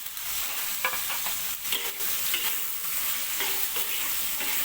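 Tomato stir-fried in hot oil for sweet and sour white snapper, giving a loud, continuous hiss and sizzle with scattered clinks and scrapes from the spatula.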